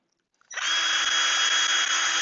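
A power drill spins up sharply and runs at a steady high whine while boring a pilot hole, loud and close, continuing without a break after a couple of faint clicks just before it starts.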